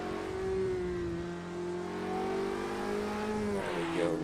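A Formula Renault race car drives on snow, its engine holding a steady, close, droning tone that climbs gradually as it accelerates, with a slight tonal shift near the end.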